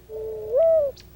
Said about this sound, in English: The mourning dove, with its gentle, owl-like cooing, gleans spilled seed in all regions of the U.S.